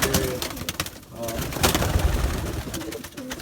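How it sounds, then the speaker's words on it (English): A tame group of pigeons cooing in a confined loft, soft repeated coos close by mixed with wing flutters and shuffling, while someone talks over them. "this is an exceptionally tame group of pigeons"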